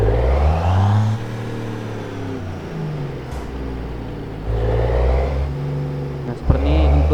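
A truck in Euro Truck Simulator 2 pulling away, its deep diesel rumble rising in pitch through gears, easing off, then building again, with a sharp click near the end; no speech.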